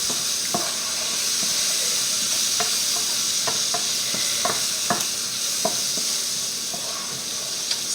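Mushrooms sizzle and fry in a pan as they are stirred for a curry-coconut chicken dish, giving a steady hiss of frying with scattered clicks and scrapes of a utensil against the pan, close up and without talk.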